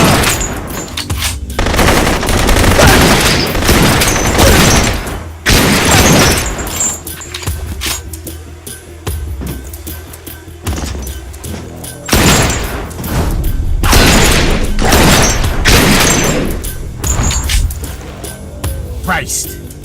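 Repeated bursts of loud gunfire in the shooter Blue Estate, heavy volleys coming in clusters with brief lulls between, the whole stretch dense and close over a steady game soundtrack.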